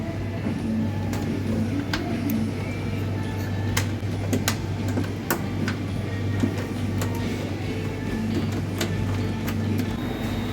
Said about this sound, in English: machine getting start, already got start, machine is running well